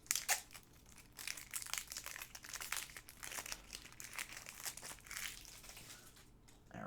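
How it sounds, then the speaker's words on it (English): Plastic and cardboard packaging of Marvel Villainous cards crinkles and crunches in a long, continuous struggle, with close, uneven rustling and tearing bursts that carry on without any talk. "the villain guide's kind of worthless right now when I can't even open the cards"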